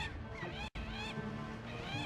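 Honking, goose-like bird calls in the Zelda Wind Waker video game, several close overlapping cries with a brief cut-out partway through.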